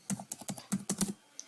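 Keyboard typing as an operation name is entered in ERPNext manufacturing software: about eight close, distinct key clicks in a quick irregular burst, then a pause and one last soft tap.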